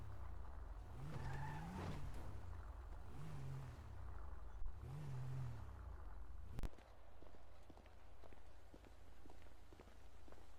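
A car driving through Los Santos in GTA sends out a low engine drone with rising and falling tire squeals during skids, all fairly quiet, and a sharp thud partway through.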